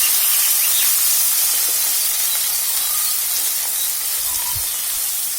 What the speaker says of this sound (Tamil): பெரிய வெங்காயத்தை ஸ்லைஸ் பண்ணதை போடுறேன்.